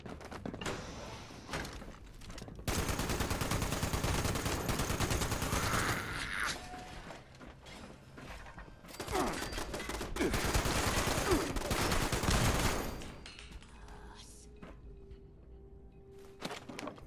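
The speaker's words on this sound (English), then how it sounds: "Heard a turret over here somewhere." An automated turret in Fallout 76 fires in long sustained bursts of rapid gunfire, loud and close, broken by short pauses and quieter stretches of ambience and footsteps.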